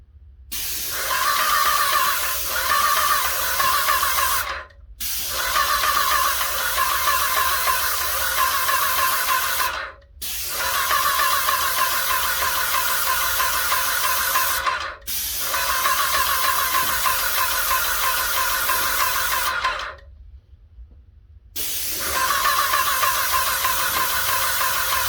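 An airless paint sprayer hisses loudly in long, even bursts of about four to five seconds each, separated by short silent gaps as the trigger is released, with no voices.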